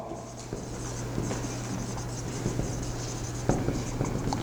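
Chalk or a marker scratches and taps steadily on a classroom board during a physics lesson, soft close strokes over a steady electrical hum.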